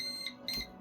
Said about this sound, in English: That was my timer, so I would know when to start going to bed